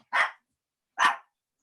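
A dog gives two sharp, loud barks about a second apart, each short and close, with silence around them.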